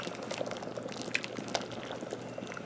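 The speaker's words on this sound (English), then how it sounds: "Bubbling, bubbling, bubbling, waiting for some good old food to be coming in and be cooked up and ate." Liquid bubbles faintly on a homemade stove, a soft continuous simmer with scattered small pops and drips, close but quiet.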